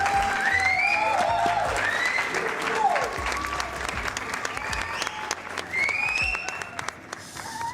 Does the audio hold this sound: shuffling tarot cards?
no